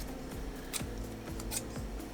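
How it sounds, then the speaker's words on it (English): Paper corners being trimmed with scissors, making a short run of crisp, close snips at an even rhythm. "Maybe I should take my scissors and let's cut the corners so it looks more like an arrow"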